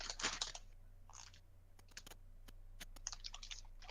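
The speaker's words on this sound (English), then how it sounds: "I don't know how loud my crunching is" Snack crunching close to a microphone: short crisp bites and chewing crackles in scattered bursts, some sharp single clicks between them, fairly quiet overall over a faint low hum.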